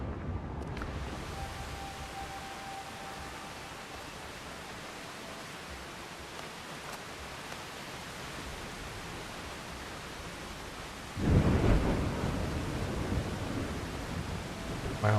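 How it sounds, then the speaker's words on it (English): A severe storm in the video game Windrose: a steady, dense hiss of wind and rain fills the scene, then a heavy rumbling burst of thunder swells in near the end. "Wow, this is quite a severe storm."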